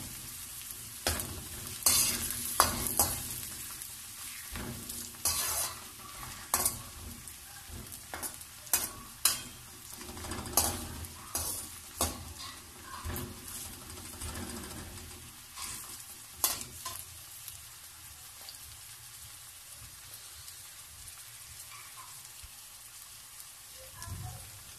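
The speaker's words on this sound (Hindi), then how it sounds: "प्याज को हम हल्का सा गोल्डन ब्राउन कर लेंगे।" Onions fry in a pan, browning to golden, with a steady sizzle broken by frequent sharp scrapes and clatters of stirring, close and clear, no talk over it.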